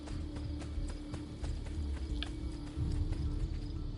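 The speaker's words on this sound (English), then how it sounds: "I hope my horse follows me." Horse hooves gallop steadily in the Assassin's Creed II video game, a continuous rapid clip-clop under a low rumbling background.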